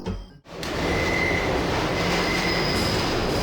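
In the Deus Ex video game, a train at a subway platform gives off a loud, steady rumble with thin metallic wheel squeals on top. The sound cuts out briefly and then swells back in.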